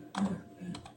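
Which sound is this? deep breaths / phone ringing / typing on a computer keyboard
typing on a computer keyboard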